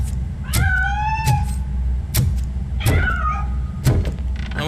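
A cat meows twice in RoboCop Rogue City, a long wavering cry followed later by a shorter one, over a loud low engine-like hum punctuated by sharp clicks and thumps.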